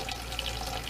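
Tap water pours steadily into a kitchen sink, a close, constant splashing hiss lasting about a second, with no speech.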